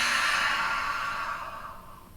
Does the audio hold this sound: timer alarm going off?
no